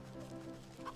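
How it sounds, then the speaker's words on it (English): A short honking goose call from the video game Wytchwood, a single brief nasal cry over a soft, sustained background tone. "Yes, there's the goose."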